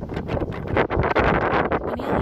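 Strong outdoor wind roars steadily across the microphone, a loud and continuous buffeting rush with brief dips in gusts and no speech.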